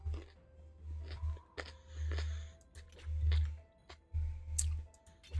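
Raw carrot crunched right up against the mic, with repeated bursts of chewing and sharp clicky bites in an uneven rhythm and nobody talking.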